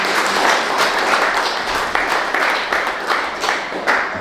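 A church audience at a teaching session on romantic relationships breaks into sustained applause, a dense wash of many hands clapping with a few sharper individual claps standing out, moderately loud and continuous.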